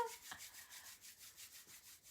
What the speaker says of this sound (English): Let's rub our hands together again.